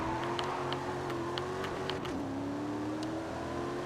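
A maxed-out Range Rover build in Forza Horizon 5 revs hard with a steady, droning engine tone that climbs in pitch, dips briefly, then keeps pulling continuously, with faint ticking sounds over it.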